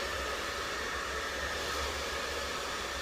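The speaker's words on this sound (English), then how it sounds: "so you can also just blow dry on cold the whole way" A hair dryer blows on the cold setting, a steady, loud whooshing hiss of air that holds constant from start to finish with no breaks.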